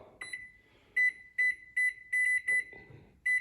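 A microwave oven's control panel gives a string of short, bright electronic beeps as its grill combo button is pressed and its dial turned, about eight clipped tones in an uneven rhythm, close and clear with faint clicks between.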